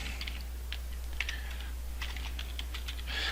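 Typing on a computer keyboard in an office while writing an Outlook email: a faint, quick patter of key clicks in short irregular bursts over a low steady hum.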